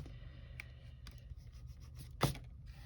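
A pencil eraser rubs over paper in a junk journal, soft scratchy strokes and light scuffs coming close and quiet, with a couple of sharper brushing sounds near the end.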